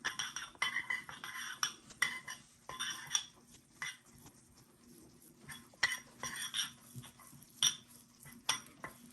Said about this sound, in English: we just stir that in like you're making granola